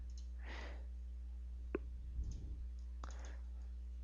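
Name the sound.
computer mouse clicks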